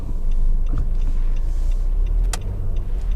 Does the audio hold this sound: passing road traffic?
yes